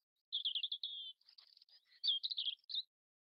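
Seagull calls from the Kings Quest III game, a run of bright, squawking chirps in two bursts, clear and close with nothing else behind them.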